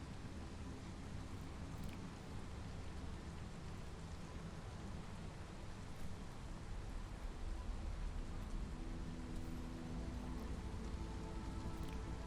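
Heavy storm rain from the video game Against the Storm hisses on continuously, an even wash of drops layered over a low rumble and faint background tones, unbroken and without voices.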